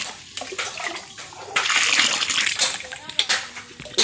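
Water poured and stirred into a cow dung slurry in a village yard while it is mixed for plastering, with uneven splashing and sloshing, close and moderately loud, under a faint voice.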